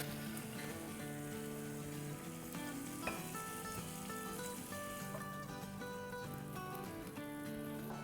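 Chicken pieces sizzling and frying in a pan on a stove, a steady close crackle with no pauses while music plays underneath.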